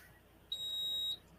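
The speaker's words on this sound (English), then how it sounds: "I apologize for that alarm" A smoke-alarm style electronic beep sounds as one steady, shrill tone lasting about half a second, fairly loud above a quiet room background.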